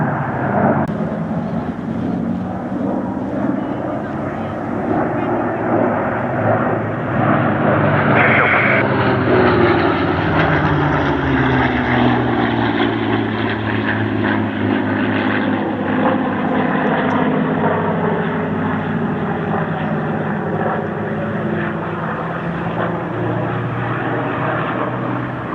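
An aircraft flying at an airshow produces a loud, continuous engine drone whose pitch sweeps upward and then slowly slides down as it passes, with a steady roar held throughout.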